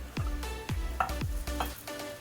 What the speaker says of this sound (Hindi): हमारा पैन गरम हो गया है। अब मैं इसमें डालूंगी लाल मिर्च, साबुत लाल मिर्च